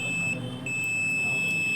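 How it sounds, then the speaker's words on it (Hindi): A buzzer sounds steadily while refrigerator parts such as the overload protector are tested, a thin electronic tone held throughout over a low electrical hum, with no talking. "इसमें बजर आ रहा है।"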